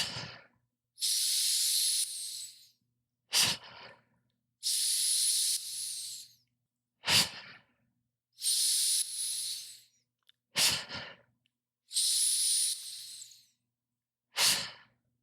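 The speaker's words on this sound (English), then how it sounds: "Let me demonstrate the breathing practice for you." Hamsa pranayama breathing practice, with five long hissing breaths through the mouth alternating with short sharp inhalations, each separated by silence, close and intimate with no talk.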